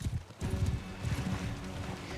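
Horses' hooves pound through a battle in the video game Mount & Blade II: Bannerlord, a dense, continuous low rumble of galloping cavalry with a brief lull before the thundering resumes.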